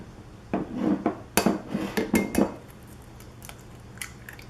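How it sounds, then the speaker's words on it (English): Whole eggs cracked against a hard edge into a bowl in a kitchen, a quick series of close, sharp taps and clicks with brief shell crackles, then a few fainter knocks. "add our 1/3 cup of egg whites and 4 whole eggs"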